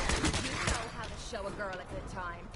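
Rapid bursts of gunfire crackle through a Fallout 4 firefight, dense at first and then thinning out, with a voice talking over and between the shots.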